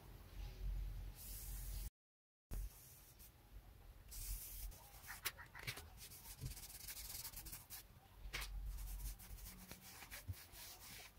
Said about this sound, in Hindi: आपने देखा ये कितने आसानी से ये इतना हिस्सा हमने पॉलिश कर लिया है।